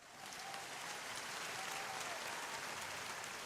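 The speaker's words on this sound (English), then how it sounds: "Can I get some applause?" A canned applause effect plays on a radio show, a faint, even wash of clapping that swells in quickly and holds steady, with no individual claps standing out and no talking.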